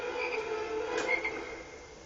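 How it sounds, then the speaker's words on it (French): Two frogs croak in a Harry Potter video game, with a steady soft croaking chorus that is fairly faint and continuous, with no talk over it. "Alors il y a 2 grenouilles."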